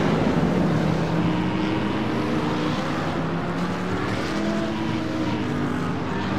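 Race cars in a sim racing game at Suzuka, bunched behind a slowing pace car, give a steady layered engine drone with shifting harmonic whines, continuous and fairly loud throughout with no talk.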